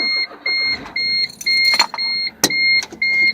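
A smart car on a test drive, with a steady engine and road drone under repeated electronic beeping tones and a sharp click partway through; no talk.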